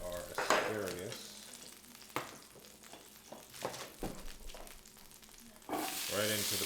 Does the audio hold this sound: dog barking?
no